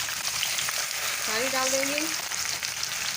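Blended onion paste fries in hot oil with a constant, close hiss and crackle, while a voice speaks briefly over it partway through.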